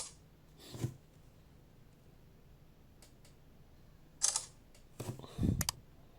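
An Oukitel C21 Pro smartphone camera taking a photo, with a few sharp clicks and a short shutter-like burst near the end, set against a quiet room with faint handling ticks.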